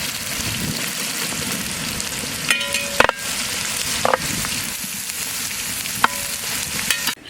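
Sliced onions and green chili sizzle and fry in a pan for mutton curry, a loud continuous crackling with occasional clinks of a spoon stirring, and no voices.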